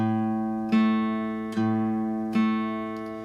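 A single plucked guitar note A struck three times, each ringing and slowly decaying before the next pluck.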